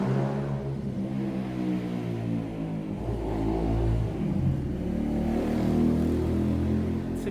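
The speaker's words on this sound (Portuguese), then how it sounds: "sei que essas motos aceleram demais" Motorcycle engines rev and accelerate in a continuous, rising and falling mid-pitched roar, fairly loud and close, with no talk over it.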